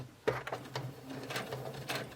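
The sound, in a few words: sewing machine top stitching across plastic zipper teeth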